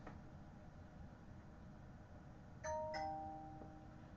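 Doorbell in the game Hypixel Skyblock rings with a two-note ding-dong chime over steady background hiss, the tones ringing out clearly near the end and fading.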